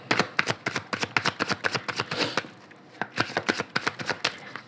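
A deck of oracle cards is cut and handled in quick bursts, a rapid run of crisp papery flicks and taps with a short pause midway before another brisk series, close and clear with no talk.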